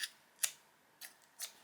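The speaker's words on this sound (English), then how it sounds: "Just take my scissors, make sure you don't cut your hand off or your fingers." Scissors snipping crochet fringe, three or four quiet, crisp snips spaced unevenly over a faint room background, no talk.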